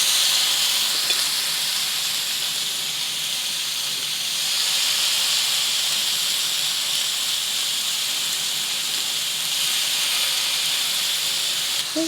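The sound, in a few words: chicken satay skewers sizzling on a hot oiled grill pan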